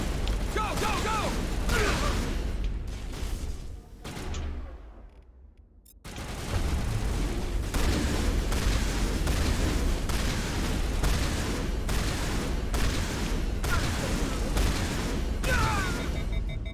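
Gunfire and explosions from a Mass Effect Legendary Edition firefight against mercenaries, dense rapid shots and booms throughout, with a brief lull midway before the shooting resumes at full intensity.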